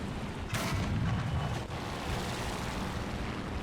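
A tank cannon fires from an AMX M4 in the War Thunder video game, one heavy boom with a sharp crack up front, then a rumbling tail under continuous engine and battle noise.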